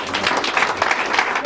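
A church congregation bursts into sustained applause, dense clapping of many hands filling the room steadily for the whole moment, with some voices mixed in.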